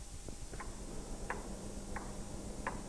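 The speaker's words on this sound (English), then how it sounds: "The pithead clock could clearly be heard" A pithead clock at the closed Chatterley Whitfield colliery museum ticks steadily, four or five faint, evenly spaced ticks over a quiet room hum, with no voices.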